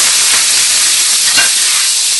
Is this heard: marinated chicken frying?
yes